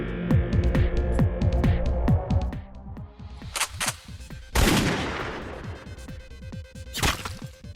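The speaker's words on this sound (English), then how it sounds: "aimed his pistol and fired at the bounty hunter" Pistol gunshots ring out as a sound effect: a rapid volley of sharp cracks up front, then a few heavier, louder blasts spaced apart with ringing tails, all close and punchy.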